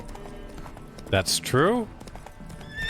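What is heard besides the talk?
horse Roach hooves and neighing in the video game The Witcher 3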